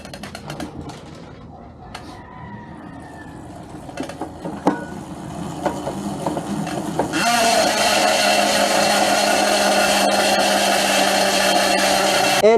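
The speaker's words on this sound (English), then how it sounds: "let's do a free hub sound check" Freehub of a Velo Elite TT disc wheel from Elite Wheels spinning, a loud, steady buzzing whir that starts abruptly and holds evenly to the end, preceded by softer handling clicks and knocks.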